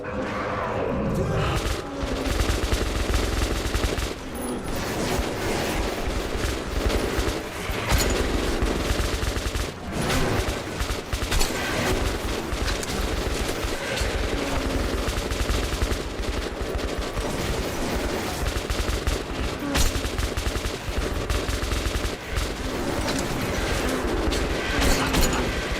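Sustained automatic machine-gun fire from NPCs in Metro, dense and continuous for the whole stretch, loud and close with crashes and booms mixed into the din.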